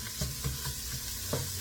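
Meat with Italian seasoning, onion powder and garlic powder fries in a pan, a steady close sizzle broken by a few soft stirring scrapes.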